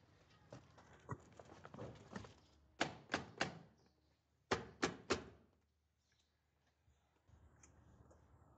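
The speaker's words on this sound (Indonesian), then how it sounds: "Terus ketuk. Lebih keras." Repeated knocking on a wooden door, an uneven patter of taps followed by two sharp groups of three loud raps, close and alone with no talk.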